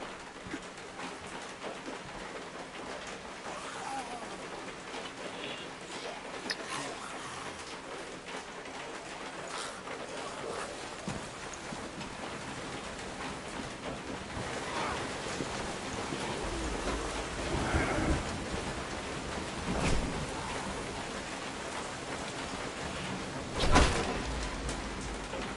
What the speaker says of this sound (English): Damn storm.